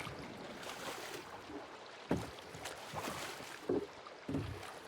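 Stand-up paddleboard being paddled with an improvised short paddle in the survival game Scum, quiet lapping water with a few soft splashing strokes at irregular intervals over a low ambient background.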